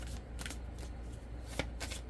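Oracle cards being shuffled by hand, soft quick riffling flutters in short bursts, close and quiet.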